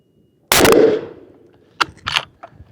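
A Ruger Gen II rifle fires a single loud, close shot with a sharp crack and a decaying echo, followed by a few fainter clicks and handling noises.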